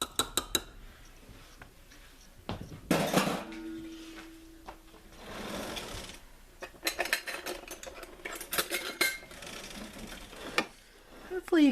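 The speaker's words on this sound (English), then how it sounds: "I'm just going to make sure I get this off of the beaters onto the bowl." A utensil scrapes pudding off mixer beaters into a bowl while a strawberry dessert is made, giving scattered clinks, taps and scraping knocks of metal against the bowl. The sounds come in irregular bursts, some close and sharp.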